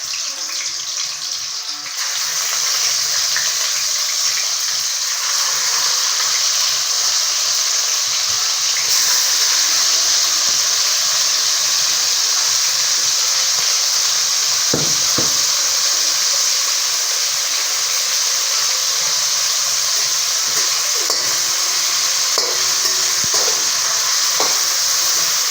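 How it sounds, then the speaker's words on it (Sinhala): Shrimp, crab and fish fry in hot oil for seafood rice at home, a loud, steady sizzle that hisses continuously with occasional sharper crackles and pops. "දැන් අපි තෙල් ටිකක් රත් වෙන්න තියලා තෙල් ටික හොඳට රත් වුණාට පස්සේ අපි ඉස්සලා මුහුදු කුකුලා මාළු ටික බෙද ගන්නවා."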